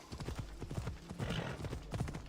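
Rapid rhythmic hoofbeats of a galloping horse in Assassin's Creed Odyssey, steady clip-clop thuds over a low game soundscape, moderately quiet with a faint voice in the background.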